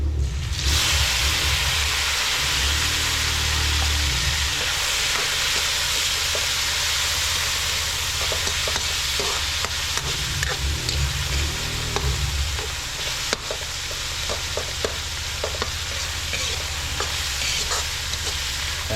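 Tomatoes sauté in a hot pan for a Kapampangan tausi bangus dish, giving a steady, loud sizzle with scraping stir strokes and clinks throughout, alone with no talk.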